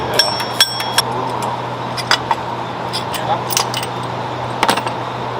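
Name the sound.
metal bracket being removed during Ford F350 supercharger install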